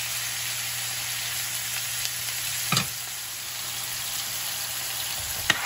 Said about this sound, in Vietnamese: Mình sẽ cho vào đây nửa muỗng cà phê ớt màu ha, rồi mình sẽ xào nó lên để nó cho nó có cái màu đẹp đẹp trước.